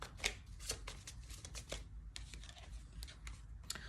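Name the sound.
tarot cards being shuffled and drawn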